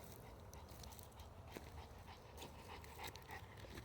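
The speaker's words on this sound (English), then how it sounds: "Decided to take my dog out for a little hike, but he's a big dog. He's a cane corso." Big cane corso dog panting on a hike, soft rhythmic breaths close by over a low outdoor hum, with a faint whimper or two.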